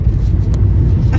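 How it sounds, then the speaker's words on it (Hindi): Steady, close engine and road rumble from inside a moving car, a continuous low drone with slight swells and no voices. "और चला रहा है आज गाड़ी।"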